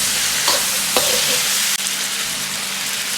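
Light soy sauce splashes down the side of a hot wok of spiced goose, a loud, steady sizzle broken by a couple of brief scraping stirs.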